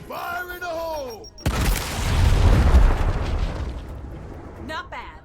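A grenade goes off in the Gears of War Tactics video game with a sudden loud boom that rumbles and fades over a few seconds. A player's voice comes just before the blast, and another voice starts briefly at the end.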